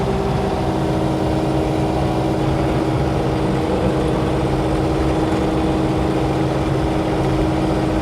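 Steady, loud drone of a mini excavator engine running as the machine drives through an overgrown yard, a constant low rumble with no change in pitch and no talk.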